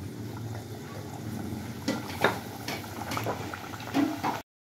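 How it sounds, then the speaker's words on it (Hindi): Papri dough frying in hot oil over a low flame gives a steady soft bubbling sizzle, close by, with a few brief louder crackles and spurts before cutting off abruptly at the end. "तेल गर्म हो चुका है और आंच हल्की ही रखिएगा। बस इसमें इसको हम डाल देंगे।"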